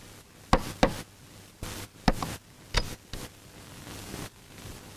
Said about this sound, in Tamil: கதவு யாரா தட்டுறாங்க?